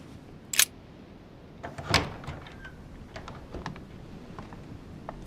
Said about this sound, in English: That's the door to Elizabeth's room.